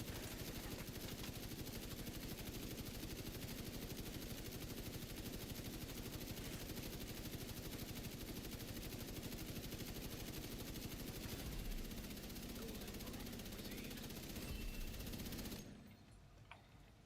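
Sustained video game gunfire, a dense, unbroken stream of rapid automatic shots that roars on steadily at high intensity before cutting off abruptly near the end, leaving faint residual noise.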